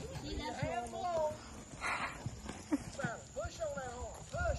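A cutting horse clip-clops along under a young rider while adults and kids talk and call out instructions. Hoof beats come through irregularly beneath the chatter, with a possible whinny among the voices.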